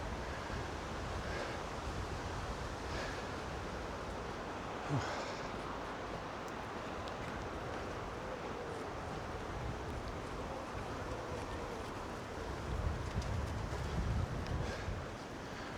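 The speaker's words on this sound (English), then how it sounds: "You've got a weir to the side so that any overflowing excess water can come back from the next section." Steady rushing water spilling over a weir beside Jesus Lock on the River Cam in Cambridge, a continuous broadband wash with outdoor wind, occasional louder surges and no talking.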